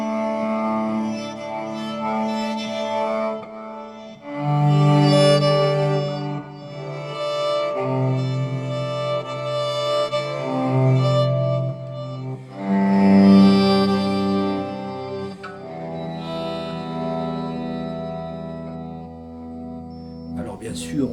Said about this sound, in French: Le son B11, c'est un son d'orchestre que j'appelle harmonium parce que ça m'évoque aussi le son du harmonium